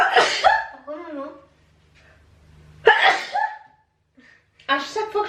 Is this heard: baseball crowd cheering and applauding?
no